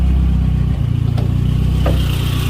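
A 1982 Volvo 242 GLT with a factory intercooled turbo engine and bolt-on modifications runs close by, giving a loud, steady low rumble with a brief dip and a couple of short higher-pitched sounds over it.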